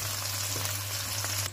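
Garlic and onions frying in olive oil in a pan for chicken curry, giving a steady close hiss and sizzle with no talk.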